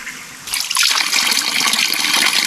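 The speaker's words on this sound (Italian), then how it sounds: "Piccolo ma importante refill dell'acqua." Water pouring and trickling into a bottle during a refill on a mountain hike on Monte Gioco, close and steady, starting after a quiet moment and running on without a break.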